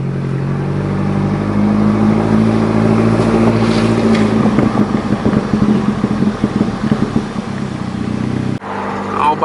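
A car engine runs loud and close with open exhaust dumping straight out of the downpipe, a rough steady drone with pulsing revs, before cutting sharply near the end.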